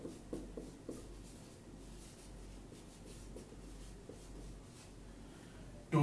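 Pen or chalk writing during a maths class, soft scratchy strokes in short bursts, close and quiet, with no talk over it.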